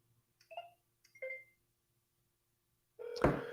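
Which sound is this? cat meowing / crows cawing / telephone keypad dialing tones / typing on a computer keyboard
telephone keypad dialing tones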